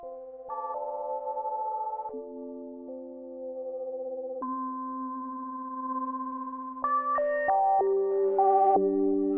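Sustained tones from a UDO DMNO synthesizer ring out alone, clean pitched notes holding and then stepping to new pitches, growing busier with quicker note changes near the end.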